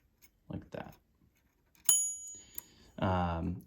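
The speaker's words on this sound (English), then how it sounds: "would just either give you a very muted bell or none at all" A faint muted ding from the bell of an Optima Elite typewriter, followed by a short brighter ring, with quiet talk before and a louder voice at the end.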